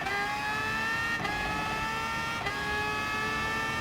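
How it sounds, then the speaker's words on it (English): Group X race car engine in Gran Turismo Sport, a steady high-pitched whine holding near-constant revs with two brief gear-shift dips, heard alone and fairly close throughout. "the Group X race car"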